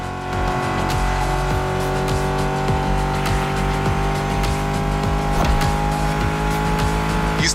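A Ford Mustang Shelby GT500 engine drones steadily in the racing game The Crew Motorfest, a loud sustained hum with repeated quick revs and a brief tire squeal, with no talking.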